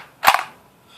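Charging handle pulled back on a tan KWA KRISS Vector airsoft gun, a single sharp mechanical clack with a quick rattling follow-through, close and loud, then quiet.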